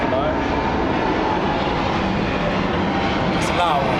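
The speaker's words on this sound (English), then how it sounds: "after this plane passes by" A large Boeing 747 roars overhead, producing a loud, continuous broadband rumble that fills the whole stretch and swells slightly near the end.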